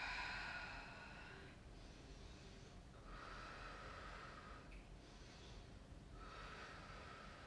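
Slow, deep breaths during a yoga hip-opener pose, several soft airy inhales and exhales in a steady rhythm, quiet and close with no talking.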